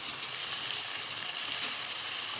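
Chopped small tomatoes hit a pan of golden fried onions, giving a steady, loud, close sizzle and frying hiss that runs unbroken throughout with no voices.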